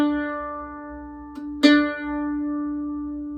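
One steady bowed open D string tone rings on, warm and sustained, with a short bow noise in the middle and otherwise quiet surroundings.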